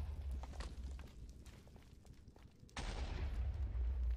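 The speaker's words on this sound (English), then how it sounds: "I don't even hear the ghast, I just hear the explosions." Ghast fireballs explode in Minecraft, a few muffled booms, the loudest arriving near the end and leaving a rumbling tail, set against a low, noisy background with no talking.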